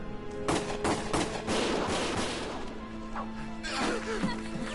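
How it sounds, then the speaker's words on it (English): Rapid bursts of gunfire in the video game Valkyria Chronicles crack and clatter in quick succession, with impacts and shouting voices mixed in amid a noisy battle scene. "Gunfire!"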